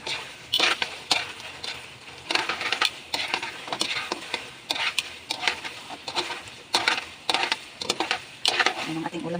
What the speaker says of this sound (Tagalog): Luto ako ng hamonado longganisa.